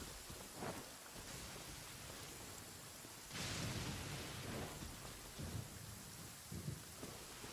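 Thunder rumbles over steady rainfall in the Genshin Impact game world, with a louder swell of thunder midway and softer rolls around it, fairly faint overall.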